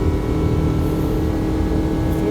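A Nissan Altima engine that is down on power drones steadily at full throttle around 5,000 RPM, a loud, even, sustained hum from inside the car with no rise in pitch.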